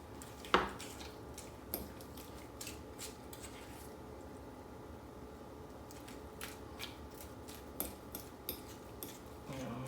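A fork mashes pecan pie filling of egg and other ingredients in a small bowl, giving scattered soft clinks and scrapes against the dish with quiet gaps in between.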